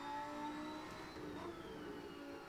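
A Lamborghini Huracan EVO in the racing game Assetto Corsa, driven at the Nordschleife, holds second gear with a steady, fairly faint engine whine and hum that sags slightly mid-way, with no talking.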